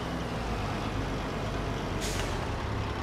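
Heavy truck engine idling and rumbling steadily while reversing to hook up in Farming Simulator 22, with a short hiss of air partway through.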